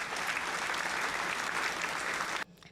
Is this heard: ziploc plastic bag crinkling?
no